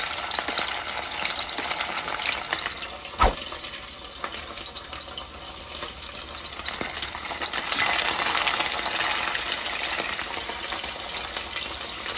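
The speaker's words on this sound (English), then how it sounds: "now that the oil is nice and hot, I'm going to slowly put my saltfish in" Saltfish is lowered into hot oil in a pan, setting off a dense, loud crackling sizzle with a sharp clack midway and a swell of bubbling toward the end, steady and close with no talk.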